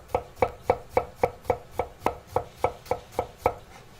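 A knife chops shallots into a fine mince on a cutting board, about a dozen crisp, evenly spaced strokes at a steady brisk rhythm, close by with no talking.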